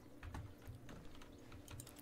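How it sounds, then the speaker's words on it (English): Keyboard keys tapped in The Stanley Parable, a quick run of clicky presses in an irregular rhythm, close and fairly quiet, with no talking. "Press O on your keyboard"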